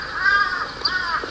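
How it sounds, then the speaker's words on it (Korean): A crow caws twice, loud and fairly close, over a steady background hiss during a barefoot walk along a forest path. "귀는 이 새들의 노랫소리, 까마귀 소리로 인해 가지고 이 자연이 귀로 들어오니까"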